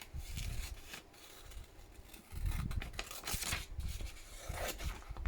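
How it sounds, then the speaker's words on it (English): Scissors snip through paper for a craft journal, fussy cutting around small shapes: repeated close, crisp snips and paper rustles in an uneven rhythm, no talk. "more fussy cutting"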